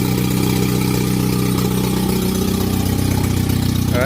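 A turbocharged LabRat car engine idles steadily at close range, a loud continuous rumble with no pauses and a brief rise at the very end.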